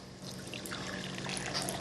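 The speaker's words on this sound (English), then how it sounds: "I'm also going to add some nice vanilla. Just a splash." A splash of vanilla poured into a bowl of whisked pastry batter in a home kitchen, a steady close trickle of liquid lasting under two seconds, alone without talk.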